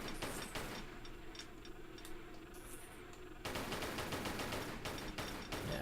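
Rapid bursts of gunfire from Lara's guns in Tomb Raider III, a dense rattling volley that stops briefly and then resumes louder, with no voices.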